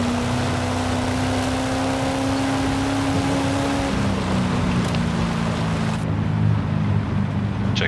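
The Impala Super Sport in Forza Horizon 5 with a drag tune, its engine droning steadily and loudly at a held pitch that shifts slightly partway through, with no other sounds.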